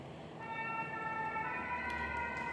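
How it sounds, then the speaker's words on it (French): A fire engine siren wails steadily on a street as the truck passes, sustained tonal whine rising in pitch over constant traffic rumble, fairly close and alone without talk. "On va laisser les pompiers passer."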